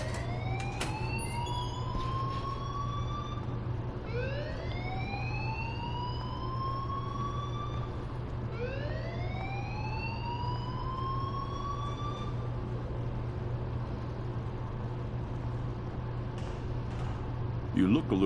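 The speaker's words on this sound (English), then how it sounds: "please turn off that alarm" A wailing alarm in a video game sweeps upward in three repeated rising tones over a steady low hum, loud and continuous, fading out partway through.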